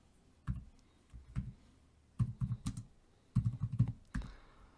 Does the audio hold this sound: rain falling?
no